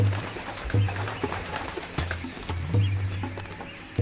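Nestling birds in tree nests crying noisily while waiting for food, a dense busy chorus of calls with intermittent louder squawks, mixed with outdoor rustle.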